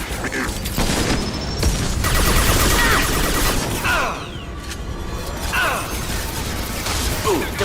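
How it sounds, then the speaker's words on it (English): Heavy mech moving overhead in the Mass Effect 2 video game: steady mechanical whirring and clanking, with gear-like ratcheting, thuds and sweeping whines over a dense, continuous wash of combat noise. "Heavy mech overhead."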